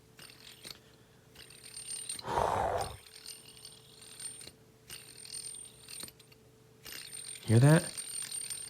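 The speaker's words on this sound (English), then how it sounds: "Oh, that's a Thrax bearing. That's a bearing, boy." A fidget spinner with a Thrax bearing whirs with a faint metallic ratcheting hum, broken by two louder grinding bursts, while someone speaks briefly over it.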